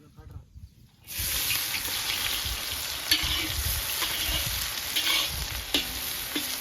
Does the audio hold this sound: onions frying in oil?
yes